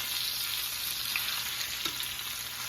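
Chicken parmesan frying in a pan just after being flipped, a steady dense sizzle with crackling pops running throughout, no voices.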